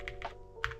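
Keys pressed on a Monsgeek M1 V5 keyboard fitted with Akko Botany switches, giving a few soft, muffled clacks in quick succession, close and fairly quiet.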